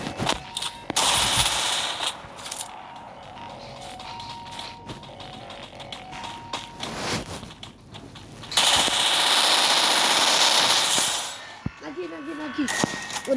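Rapid automatic gunfire from the mobile shooter game Free Fire, bursts of dense crackling shots with a long sustained volley near the end, loud and close, with people talking over it.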